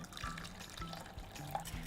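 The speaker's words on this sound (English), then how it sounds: "we pour in the first half of the custard which we made" Custard poured over dissolved sugar, a soft liquid trickle and splash with faint rhythmic taps, quiet and close with no talking.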